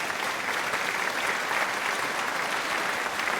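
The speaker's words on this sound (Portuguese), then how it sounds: "Aplausos aí pro nosso Paulo Henrique." A crowd claps in sustained, even applause, a dense patter of many hands at moderate distance, with no voices standing out.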